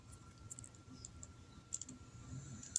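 Faint, sharp plastic clicks from the legs of a Transformers Legacy Evolution Lunar Tread figure being folded, several small snaps in an irregular sequence, close and quiet.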